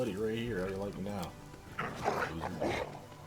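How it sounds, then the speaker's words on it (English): Dogs fighting in a fantasy video game battle against fire-immune trolls: a dog's yips and whimpering barks up close, mixed with clashing combat sounds and someone talking over the action. "The dogs are just doing work."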